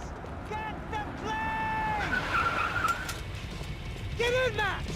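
Tires squealing repeatedly as a car skids hard in Max Payne 3, several sharp whining screeches over engine roar and action noise, with shouting voices mixed in.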